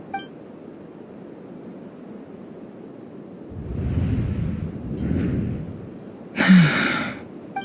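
Character gasp in Genshin Impact: a breathy, airy intake rising out of soft game ambience, followed by a brief bright chime or beep, moderately loud and close, no speech.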